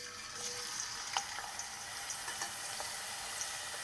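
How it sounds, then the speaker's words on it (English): Potatoes frying in hot oil at about 350 degrees for a frittata, a steady bright sizzle throughout with small pops and crackles scattered across it, close and even in level, no voices. "Bring the oil to temperature about 350 and slowly add the potatoes in."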